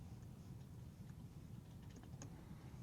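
Keys clatter in a quick, irregular run on a computer keyboard, faint and close, with no talking.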